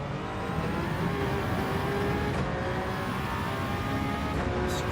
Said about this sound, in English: Just revving it out pretty much